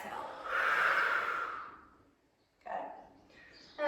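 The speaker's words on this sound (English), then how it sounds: "Breathe in, and then exhale." A long exhale during a Thai yoga massage sequence, breathy and close, swelling then fading, followed by a shorter second breath.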